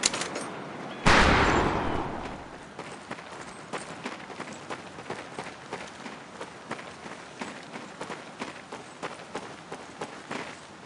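Shots ring out on a training firing range in Medal of Honor: Pacific Assault. A loud blast opens, followed by a steady run of sharp, evenly repeated cracks close by.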